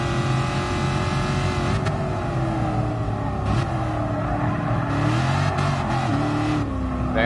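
A Shelby Cobra 427 runs flat out at about 120 mph during a classic Le Mans time rally, its engine a loud, continuous drone heard from inside the car, with the pitch wavering slightly as the revs shift.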